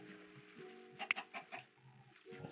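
Short clucks from a chicken inside a video game, a few quick bursts near the middle of the clip over a steady low game background hum.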